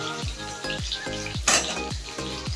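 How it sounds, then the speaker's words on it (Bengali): Vegetables frying in oil with bay leaves and five-spice: a steady sizzle under repeated clinks and scrapes of a utensil against the pan, a close, rhythmic stirring. "তারপরে আস্তে আস্তে সমস্ত সবজিগুলো ভেজে নিচ্ছে"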